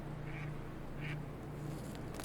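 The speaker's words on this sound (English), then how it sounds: "these fucking ducks" Ducks quack in short bursts within the vampire role-playing game Vampire: The Masquerade – Coteries of New York, two or three brief calls over a steady low ambient hum.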